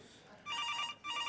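A telephone rings close by in two electronic trilling bursts separated by a brief pause.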